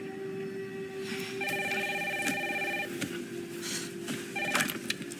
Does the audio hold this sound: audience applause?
no